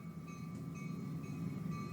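A train sound effect plays in a podcast, a steady low rumble of rolling wagons with a faint sustained tonal whine, continuous and moderately loud.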